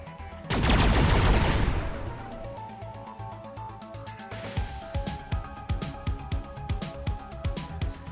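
Weapon fire against a drone in the video game Space Cats Tactics: a loud sustained burst of blasting at the start, then a quicker rhythmic run of punchy shots and impacts under layered game effects.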